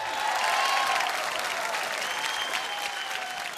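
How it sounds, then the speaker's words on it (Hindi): An awards-show audience applauds, a full, steady wash of clapping from a large crowd that runs through the whole stretch with little change. "इस पे जोरदार तालियां हो जाए दोस्तों।"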